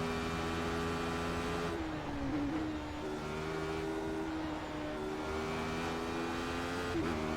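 A Radical race car's engine in iRacing holds a steady, loud drone at Oulton Park, dipping briefly around a shift before pulling on again with continuous harmonic whine and rising revs.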